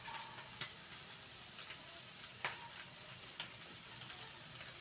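Food sautés in a pan with black pepper, giving a continuous moderate sizzle and occasional soft clicks of stirring. No one talks over it.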